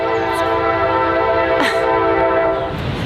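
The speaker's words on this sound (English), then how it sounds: "There's a fucking train, dude." A train passes with a loud, sustained horn blast full of stacked tones, holding steady for about three seconds over low rumbling rail noise, with no talk over it.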